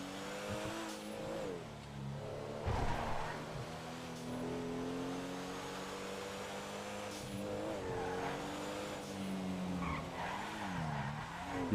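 A car skidding with screeching tires in a GTA roleplay game, engine revving under repeated squeals and a sharp burst near the start, continuous and fairly loud.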